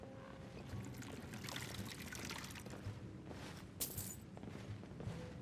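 Water pours for a refill in the fantasy game Skyrim, a steady trickling stream over a noisy tavern-like background, with a brief brighter splash near the end.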